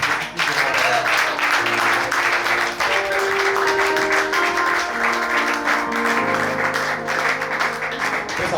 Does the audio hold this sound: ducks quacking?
no